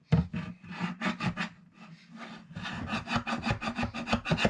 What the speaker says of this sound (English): the chisel is scooting across there really nicely